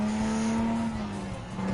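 Suzuki Escudo race car tuned past 900 horsepower in Gran Turismo 7, a sustained loud engine drone at steady pitch with a slight dip near the end, alone without voices.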